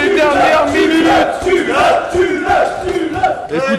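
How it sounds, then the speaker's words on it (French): A large crowd roars and cheers wildly during a one-on-one knight duel at a charity stream event. The sound is loud and continuous, with rising and falling waves of massed shouting and chanting and no separate speaking voice. "La foule est en délire."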